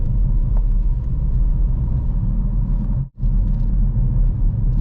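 A manual car's engine rumbles steadily as it slows for a bend and is downshifted into third gear, with a brief sharp drop in sound around the gear change before the low drone resumes.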